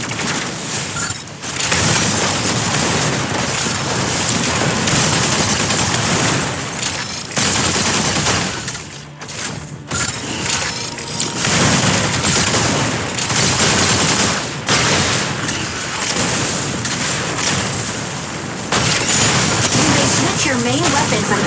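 Rapid energy autocannon fire from a mech in the game Mecha Break, loud and dense bursts that run almost nonstop with a few brief gaps, overlaid with game voice and speech.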